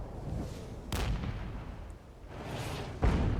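Incoming artillery fire in the Regiments video game, several distinct booming impacts spaced about a second apart, each with a sharp onset and rolling rumble beneath.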